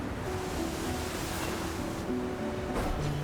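Ocean waves washing in the video game Sword of the Sea, a steady rush of surf and wind with faint tonal game sounds, no speech.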